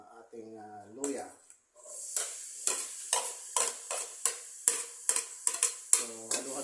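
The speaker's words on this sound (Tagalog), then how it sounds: "Pagka medyo mainit ng mantika, ilagay natin ng ating luya." Chopped ginger drops into hot cooking oil for papaitang baka, bursting into a loud sizzle, followed by rhythmic spatula scrapes and stirring hisses in the pan; a voice speaks briefly at the start and end.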